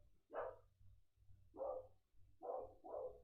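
Outside a window, a dog gives four muffled barks, one alone and then a spaced pair and a quick double, faint and distant over a low steady hum.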